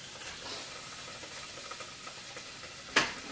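Butter melts in a saucepan with a steady, soft sizzling hiss throughout, faint and continuous, ending with one brief sharper clatter.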